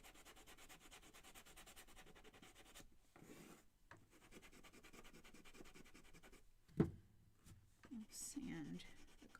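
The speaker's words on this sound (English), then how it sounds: "And then we're going to take this one and sand our bristles" Soft, steady rubbing of sandpaper across the bristles of a craft kit brush, with brief pauses, a light knock, and faint handling noise near the end.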